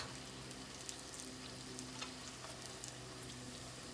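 Christmas cookies frying in a pan, a steady, faint crackling sizzle with scattered small pops running throughout, no talking.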